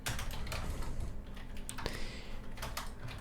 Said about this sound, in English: let me type out one of those invocations here